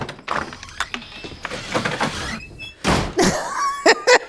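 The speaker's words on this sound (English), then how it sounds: "There's a squeaky door sound effect." Door from a Sam Raimi horror film squeaks and thunks, with a few scattered creaks and knocks followed by louder bangs and a sharp high squeal near the end.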